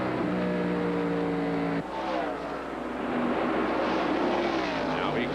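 NASCAR Winston Cup stock cars racing at Indianapolis Motor Speedway in the 1999 Brickyard 400, a loud continuous engine roar that shifts pitch midway as cars pass off the fourth corner, steady and close.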